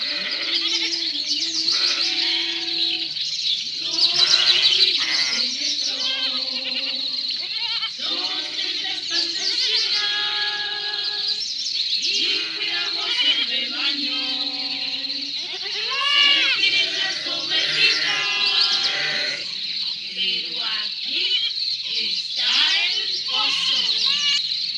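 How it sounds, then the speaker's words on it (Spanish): A flock of sheep bleats repeatedly near and far, with many overlapping wavering cries across a pastoral scene and voices talking among them. "Qué bonita esas 6 pastorcitas y esas ovejas."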